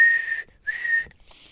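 A police officer's whistle shrills in a film scene, two high, steady blasts separated by a short gap, then a fainter trailing tone, with no talk.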